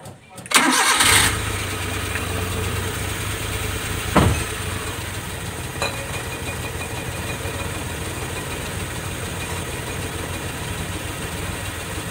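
A small engine just back from a carburetor overhaul, pulled to a start and then settling into a steady, even idle that runs on continuously, with a brief rev bump partway through.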